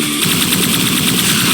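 Rapid automatic gunfire in a video game, a dense continuous burst of shots at fast, even rhythm, loud and close, with no talking.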